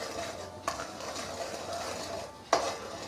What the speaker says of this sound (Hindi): अब थोड़ा सा इसको मिक्स करेंगे मसालों को